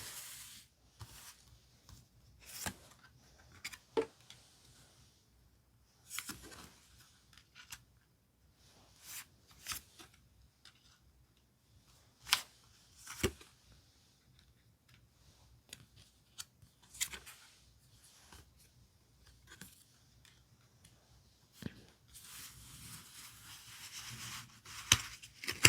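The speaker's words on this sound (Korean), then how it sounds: "이제 남은 하나, 조언과 주의할 점 어떤 건지 한번 카드 5장을 선택해 볼게요." Tarot cards are handled and shuffled while five are picked, giving sporadic sharp card slaps and swishes between quiet pauses. A denser rustle of cards comes near the end.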